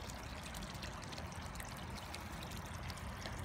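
Water pouring steadily out of a backyard pond filter set up for winter, a constant close rushing trickle with no break.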